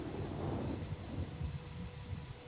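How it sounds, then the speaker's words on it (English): Thunderstorm outside the cockpit in a Fokker 50 flight simulator game, a faint low rumble of thunder swelling early then settling into a soft, steady rain-and-wind wash, with no voices. "It is storming."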